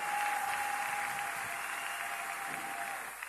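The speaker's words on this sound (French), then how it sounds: "Acclamons très fort pour le Seigneur" A church congregation applauds for the Lord during a live worship service, a steady dense roar of clapping hands that holds throughout and tapers slightly at the end.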